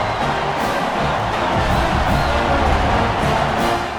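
A packed college football stadium crowd at a game against Army, a dense, continuous roar holding at a steady loud level with no break.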